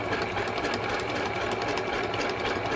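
A sewing machine stitching steadily along the edge of a vellum pocket page, a continuous close mechanical whir with rapid needle rattle and no pauses.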